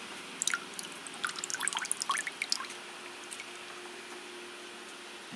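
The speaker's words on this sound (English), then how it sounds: "So we'll put in some liquid seaweed." Liquid seaweed feed is poured into water for orchid feeding, heard as a soft, close trickle with scattered drips and splashes over a few seconds, quiet and with no talk.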